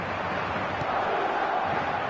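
A football match crowd roars in a steady, dense wash of cheering voices, loud and continuous for the whole stretch, with no single voice standing out.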